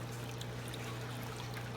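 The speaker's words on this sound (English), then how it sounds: "I've got water coming out of the return here" Water pours steadily from an aquarium plumbing return in a fish room, a constant close splashing trickle over a low steady pump hum.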